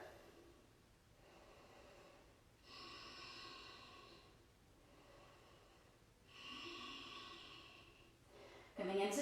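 Deep, audible breaths in a vinyasa standing splits pose, two full breath cycles with soft, rushing inhales and exhales separated by quiet pauses, close to the listener, ending on a sudden louder sound.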